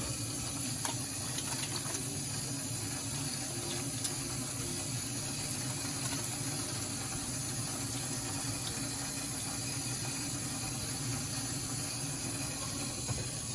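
Tap water runs steadily into a sink while someone rinses hot pepper off their hands, an even, unbroken rush of water with no voices.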